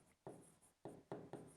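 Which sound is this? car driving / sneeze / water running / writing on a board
writing on a board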